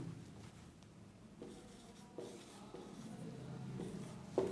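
Faint scratchy strokes of writing on a classroom board during a physics lesson, a soft, steady rubbing texture with brief pauses between strokes.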